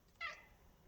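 A pet cat gives a single short, faint meow in a quiet room at night.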